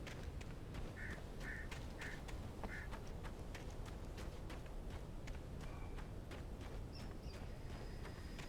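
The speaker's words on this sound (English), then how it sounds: "Birds." Birds in the video game Alan Wake, heard as several short quacking or honking calls early on, faint over a steady rushing ambient bed, with a few soft clicks and a thin high tone later.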